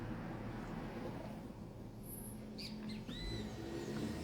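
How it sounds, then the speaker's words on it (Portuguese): Birds sing faintly in the early-morning distance, a few short chirps and whistled notes rising over a steady low background hum. "A Lu tá falando do canto dos pássaros."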